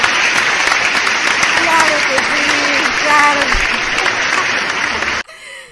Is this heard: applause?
yes